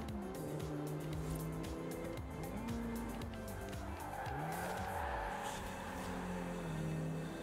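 A car drifts in Forza Horizon 4: the engine revs up and down in sweeping pitches while the tires squeal and skid steadily throughout, with no talking.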